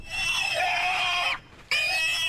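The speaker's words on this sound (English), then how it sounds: "Where that pig call from again?" A played recording of a pig oinking and squealing, loud and close, with a sustained shrill squeal that cuts off briefly for a moment, then resumes just as strongly.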